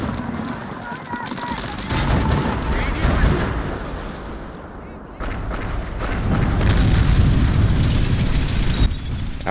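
Tank and anti-tank gun fire in the World War II strategy game Men of War, heavy rumbling booms and blasts rolling almost continuously through the battle, loud and dense, with someone talking over it.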